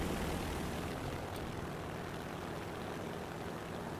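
Aircraft engine during takeoff in War Thunder, a steady loud propeller drone that fills the clip evenly, no voices.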